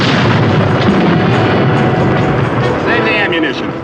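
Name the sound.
tank firing its gun, radio drama sound effect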